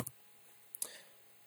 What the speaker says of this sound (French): j'appuie sur Enter